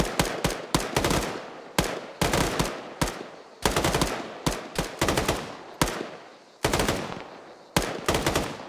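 Rapid bursts of automatic gunfire from a military video game, sharp close shots in quick clusters separated by short pauses, loud and repeated throughout.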